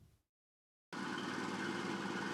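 A K1A2 tank with a suspected engine fault running during joint military-civilian maintenance checks: after a brief silence a steady, loud engine drone with a constant low hum takes over and holds evenly to the end.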